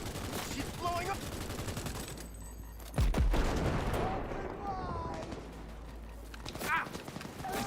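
Bursts of weapon fire crackle at low level during Cyberpunk 2077 Phantom Liberty gameplay, a rapid volley followed by a heavy thump and scattered shots, with a player talking over parts of it.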